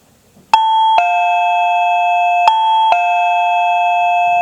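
A Reolink battery doorbell chime rings loud and close: four bright bell-like tones struck in two pairs, each ringing on and blending into a sustained shimmering hum, with nothing else audible.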